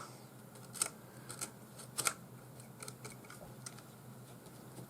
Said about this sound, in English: we don't need that constrictor knot anymore, so the first thing we can do is just carefully cut that off